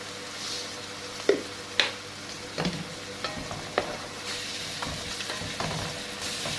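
Tomatoes simmering in a pan with cumin and salt, sizzling steadily while a spoon stirs them, with a few sharp scrapes and clinks of the utensil against the pan up close.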